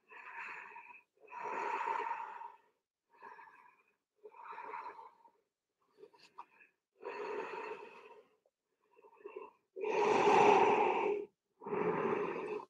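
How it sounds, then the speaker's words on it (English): Deep yogic breathing during a vinyasa flow session: slow, audible inhales and exhales alternate in a steady rhythm, close and breathy, with a louder, fuller breath near the end. "Inhale and exhale deeply"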